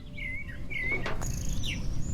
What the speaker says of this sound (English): For a second I thought I heard birds IRL, but then I noticed it's in the game.